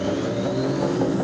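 A French gendarmerie police motorcycle able to reach 230 km/h accelerates hard, its engine giving a steady loud rising drone close to the listener with no voices.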